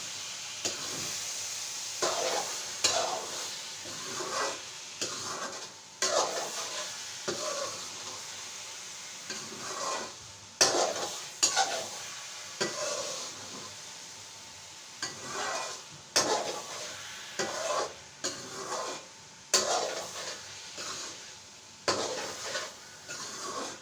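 Carrot halwa cooked in desi ghee with cardamom is stirred in a pot, a spoon scraping in repeated uneven strokes over a soft sizzle, fairly close, with no talk.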